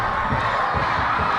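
A dense Bhutanese crowd roars continuously at a World Cup qualifier football match against Sri Lanka, with pounding drums thudding rhythmically beneath the steady cheering.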